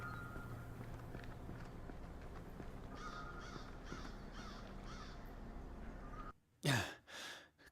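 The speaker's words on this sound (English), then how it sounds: "Crows. They are everywhere." Crows cawing in the video game Saint Kotar, a cluster of harsh repeated caws close by, set over low ambient hum and soft footsteps.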